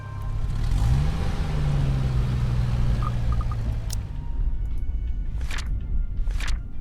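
A car engine idles low and steady, rising briefly in pitch near the start as it revs, then cuts out after about four seconds, followed by faint clicks and a couple of soft door or movement sounds.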